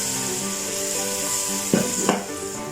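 Ginger garlic paste fries in oil with a steady sizzle, broken near the end by two brief scraping stir strokes.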